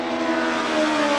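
A USAC race car engine roaring steadily on the track at Indianapolis Raceway Park, a loud sustained tonal drone that rises slightly toward the end, with no talk.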